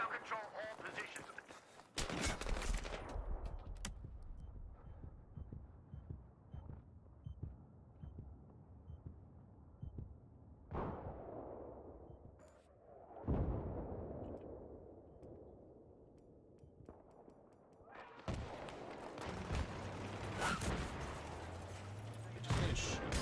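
Rapid bursts of gunfire and explosions in Battlefield 3 on Xbox 360, loud clusters at the start, middle and end with quieter gaps of background battle noise between them.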